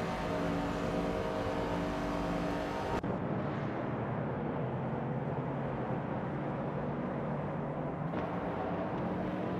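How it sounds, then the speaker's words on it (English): Race cars in a vintage Trans-Am race at Road America within a racing simulator produce a continuous engine drone, switching abruptly to a duller, rumbling engine tone partway through, with no talk. "We just witnessed some exciting racing action here with our driven cars competing in the simulator"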